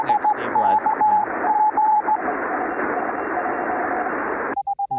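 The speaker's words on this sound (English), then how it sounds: "And that's my side tone again." Ham radio transmitter sidetone: a clean, mid-pitched beep keyed in short broken bursts over loud static hiss, then a steadier, clearer tone pulsing on its own at the very end once the noise drops away.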